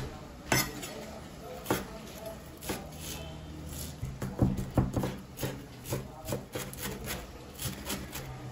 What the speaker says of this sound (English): Let's chop some handful of green coriander very finely.